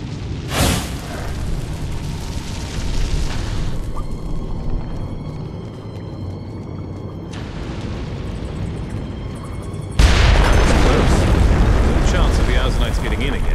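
Explosives packed into a minecart blowing up in Dungeon Siege 3, a sharp loud blast at the start and a second heavy roaring burst later, with continuous rumbling battle noise, music tones and some voice between them.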